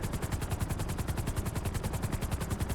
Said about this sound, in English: I usually prefer to just take them out with a sniper rifle.